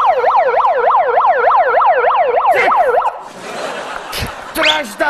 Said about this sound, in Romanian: Nino, Nino, Nino, poliția!